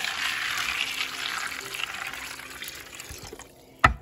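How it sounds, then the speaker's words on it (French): Water pours steadily from a tap into a bucket of beet pulp pellets being prepared as horse feed, a continuous close splashing fill that ends with a brief knock. "il suffit de le mettre dans un seau, d'y rajouter de l'eau."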